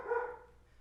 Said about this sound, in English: the dogs are definitely adding to the ambiance at least